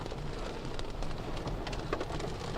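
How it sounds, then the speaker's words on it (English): Fine pea-sized hail patters continuously on a car during a severe storm in Kentuckiana, a dense, steady crackling hiss of tiny impacts with no talking. "see if you can hear some of the hail"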